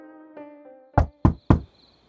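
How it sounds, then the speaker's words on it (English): Three sharp knocks on a door, evenly spaced and close, following a soft tonal cue in an animated story. "there was a knock on the Smiths' door"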